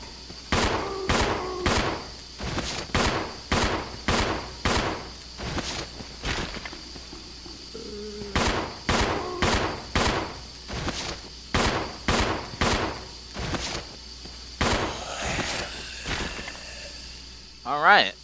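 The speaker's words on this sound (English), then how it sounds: "now let's test Rebecca's custom handgun on zombie, see if the firepower is any different" Rebecca's custom handgun fires at a zombie in Resident Evil Zero HD Remaster: a series of sharp, loud single shots in two evenly spaced volleys, with short pauses between them and a faint shuffle near the end.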